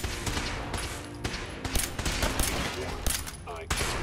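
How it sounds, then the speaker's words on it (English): Rapid bursts of gunfire from Fallout 4 crack repeatedly and loudly in dense overlapping volleys, with game sounds and faint voice underneath. "I guess we're just gonna start firing."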